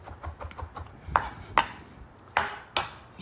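A knife chops food on a cutting board while snapper and taco rice are prepared, giving four sharp, distinct strikes spaced unevenly over soft background clatter.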